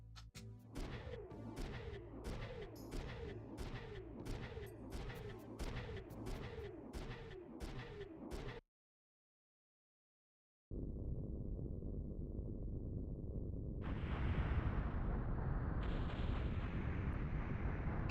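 Bombs explode and destroy a silo and base in the video game Front Mission 3: a rapid run of loud, evenly spaced blasts, then a brief silence, then a sustained heavy rumbling roar.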